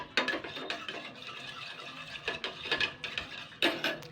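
A spoon stirs milk into hot water in a bowl, repeated clinking scrapes against the sides in an uneven rhythm, close and clear, with no speech.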